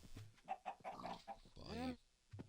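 Minecraft chickens cluck in a video game, a few short, quiet clucks and squawks in a loose sequence.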